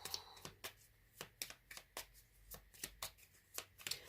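Tarot cards are shuffled and drawn, with quiet riffling snaps repeating in a steady rhythm of about a dozen crisp, close bursts.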